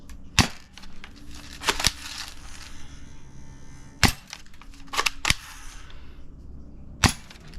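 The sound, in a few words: cheap backyard spring airsoft rifle shooting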